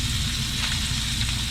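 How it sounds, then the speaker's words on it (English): A fish fillet searing in a pan of butter and olive oil, giving a dense, steady sizzle that stays loud and close throughout, with no talking. "Getting a good sear on each side in this butter and olive oil."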